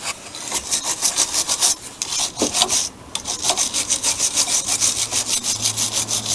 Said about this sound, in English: you might as well scrape the battery terminal